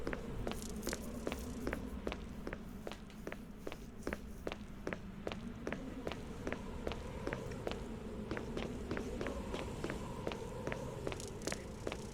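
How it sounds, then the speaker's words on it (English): Squishy zombie footsteps in Resident Evil HD Remaster, a long run of steady, evenly paced wet steps over a low ambient drone, fairly quiet and continuous, with no talking. "I'm not a fan of the zombies' squishy footsteps"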